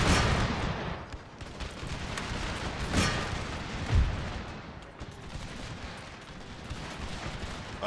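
Musket volleys crackle across an Empire: Total War battlefield, a dense, noisy wash of distant gunfire with a sharper report standing out partway through, continuous rather than clearly separated shots.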